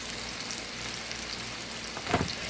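Vegetables frying in seasoning oil in a pan give a steady, soft sizzle, with a brief louder stir or clatter near the end.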